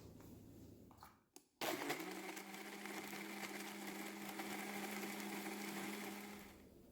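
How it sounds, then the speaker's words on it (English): A countertop blender whirs steadily for several seconds, blending ripe bananas, peanut butter and unsweetened soy milk into a breakfast shake, preceded by a brief clunk and pause before the loud motor starts; no voices. "Now I'm just going to give this a blend."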